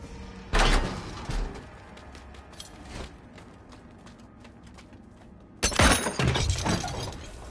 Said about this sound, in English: Use the Ritual Pens key to open the Ritual Pens door.